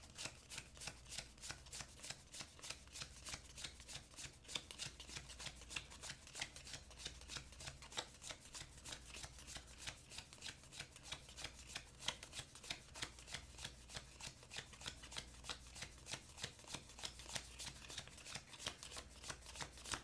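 A thick stack of Marvel trading cards flicked through one by one, crisp rapid papery snaps in a steady even rhythm, close and quiet, with no voices.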